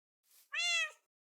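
Cat in the video game Minecraft giving a single soft, close meow after a faint breathy lead-in, otherwise quiet.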